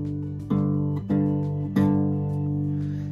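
A guitar double stop on the fifth fret of the sixth and fifth strings rings out in three clear strummed repetitions, each sustaining and overlapping, close and fairly loud with no voice.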